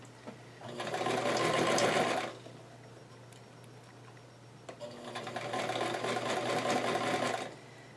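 A sewing machine with a straight-stitch presser foot stitches a doll dress in two steady runs of rapid whirring, each about two seconds long, separated by a pause. The machine is close and clear, and no one talks.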